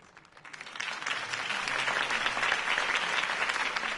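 A crowd applauds in Batman: The Telltale Series, the clapping swelling from quiet to a dense, sustained roar that holds steady to the end.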